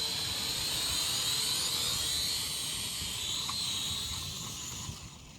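A Syma X5SW FPV quadcopter drone whines with a steady high-pitched rotor buzz as it flies in to land, holding close and fairly loud before tapering off at the end.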